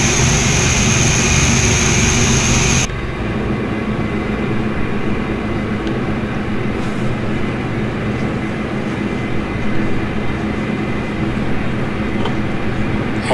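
A Dash 8 turboprop in the Prepar3D flight simulator: a loud, steady engine roar with a high whine cuts off abruptly after a few seconds. A lower, even rumble of running engine continues until the end.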